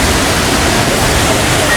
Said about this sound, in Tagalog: Ito na yung falls na sikat na falls dito sa Cebu.